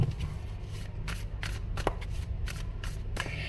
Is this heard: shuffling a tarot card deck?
yes